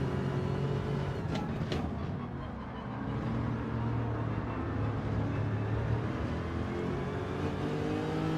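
A Corvette C7 engine in a racing video game, a steady droning hum held at a fairly constant pitch with a slight dip midway, continuous and moderately loud with no talk over it.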